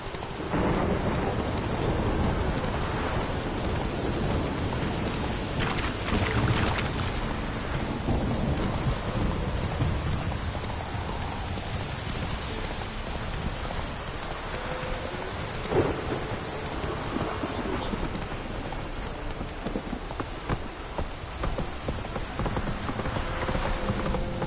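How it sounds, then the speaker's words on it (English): A thunderstorm in The Witcher 3 video game: steady rain hisses throughout while thunder rumbles and cracks at intervals, with occasional hoof-like clopping under the downpour. "Lightning strike?"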